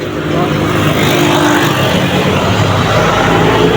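A motorized tricycle's engine drones loudly and steadily up close, a continuous rough rumble with road noise and no break throughout.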